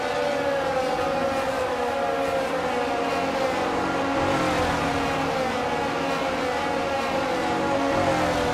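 Engines of F1 race cars idle and hum together on the starting grid in the F1 22 racing game, a steady, continuous drone with a siren-like tonal whine held throughout.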